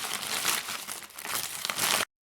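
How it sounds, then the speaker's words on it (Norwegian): Paper is crumpled close up in dense, continuous crinkling full of tiny clicks, swelling and easing in bursts before stopping abruptly. "Det er litt vanskeligere å høre det på papiret, men essensielt så er det masse sånne små klikk som skjer hele tiden."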